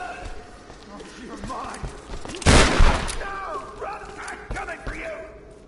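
A loud, short burst of gunfire in the 2013 Tomb Raider video game, rising sharply mid-clip over a steady bed of in-game ambience and scattered lighter thumps.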